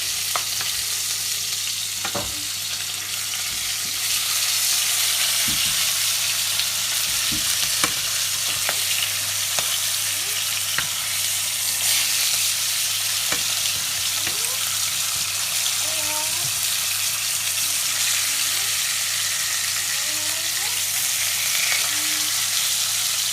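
Salmon pan-frying skin side down in a skillet gives a steady, fairly loud sizzle throughout, with scattered clicks and light scraping of utensils on top.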